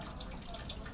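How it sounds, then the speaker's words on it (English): Water poured over deities in a Bangalore temple during the morning bathing ritual, a steady splashing, trickling wash of liquid that runs continuously, moderately close. "that sound that you hear is the sound of the water that is used to bathe the gods every morning"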